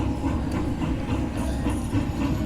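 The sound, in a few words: locomotive train sound in a video game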